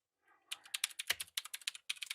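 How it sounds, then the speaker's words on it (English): Quick bursts of typing on a computer keyboard, with dense, rapid key clicks in uneven clusters and a brief pause before a final flurry, close and clear with no talking. "You can hear me typing away quickly."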